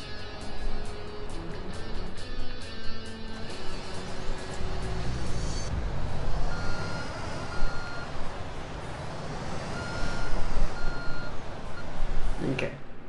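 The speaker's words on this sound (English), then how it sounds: "concrete truck I can just back up to get it out of my way" Steady electronic reversing beeps from a concrete truck backing up in Construction Simulator 2, pulsing in a regular rhythm over a rumbling engine, moderately loud and close.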